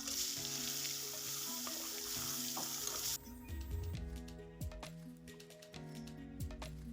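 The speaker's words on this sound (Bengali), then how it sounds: "মাছগুলো একদম পিট ওপিট সুন্দর করে ভেজে নিতে হবে।" Rohu fish sizzles steadily in hot mustard oil, a dense crackling hiss with a low hum, then sharper spattering pops as the frying continues, no talking.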